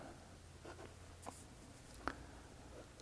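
A Jinhao X159 fountain pen nib scratches faintly across paper, soft intermittent strokes with a couple of small taps.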